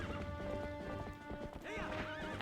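Epona, the horse in the Zelda game Twilight Princess, trots with steady clip-clop hoofbeats and lets out a loud whinny near the end, over layered game music.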